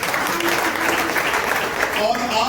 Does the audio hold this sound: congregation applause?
yes